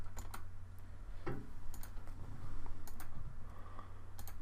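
A computer keyboard's backspace key pressed and a mouse clicked several times, producing light scattered clicks and taps close by over a steady low hum.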